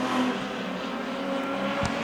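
Street stock race cars thunder down the front straight of an oval at a championship race, with a loud, sustained engine drone and a brief sharp burst near the end.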